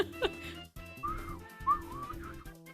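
A whistled melody from the Pokémon FireRed and LeafGreen games: a bright, gliding tune carried over steady background music, moderately loud.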